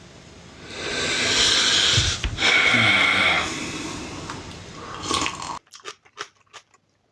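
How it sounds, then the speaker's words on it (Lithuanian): A man bites into a raw onion at close range, producing crunchy biting and chewing noises with heavy breathing and snorts, followed by a few quieter chews after a short pause. "nuo slogos bandysime valgyti svogūną"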